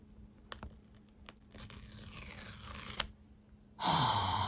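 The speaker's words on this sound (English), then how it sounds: "This time, we just have to rip these paper tags to open up the iPhone box." Paper tags on an iPhone 14 Pro box torn off, a few faint scratchy tugs followed by one loud, close, sustained rip near the end.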